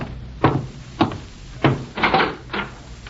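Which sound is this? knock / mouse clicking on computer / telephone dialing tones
knock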